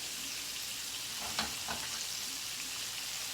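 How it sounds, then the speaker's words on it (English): Onion, scallion and thyme frying over low heat in a pan, a steady soft sizzle with a couple of brief stirring clicks partway through. "put that on low and make it fried up"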